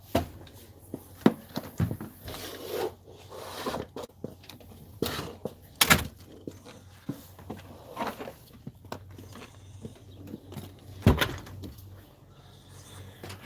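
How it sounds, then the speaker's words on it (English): A front door onto a porch is pushed shut amid a string of close, sharp knocks and thuds, with a few loud bangs standing out among scattered softer rattles and footsteps. "Let me shut this front door."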